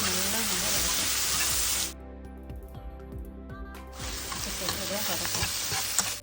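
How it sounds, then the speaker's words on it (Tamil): Onion and potato samosa filling with garam masala and cumin powder sizzles in a pan, loud frying hiss broken by a stretch of scraping stirring before the sizzle returns. "இதை நல்லா நம்ம வதக்கலாம்."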